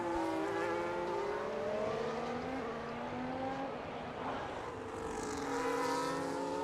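Race cars on the Hungary circuit in a racing video game scream past with high whining engines and gear shifts, loud and continuous, one car sweeping by and fading while another approaches.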